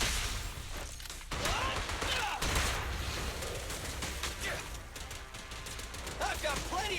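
Video game gunfire rings out in dense bursts and volleys, with impacts and whooshes mixed in, loud and busy through the whole stretch while a voice talks now and then.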